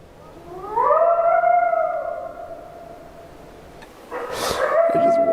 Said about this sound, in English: Holy, there's a coyote outside.